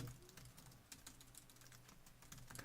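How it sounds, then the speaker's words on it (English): Fingers patter on a computer keyboard in quick, uneven bursts of clicks, close but quiet, with a low steady hum underneath and no talking. "This is just the typing portion of the podcast."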